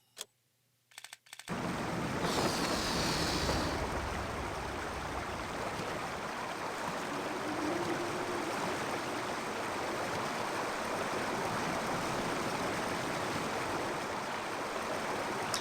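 A flowing river in the video game Indiana Jones and the Infernal Machine rushes steadily after a couple of faint clicks at the start, a constant broadband wash of water that holds without a break, with no speech.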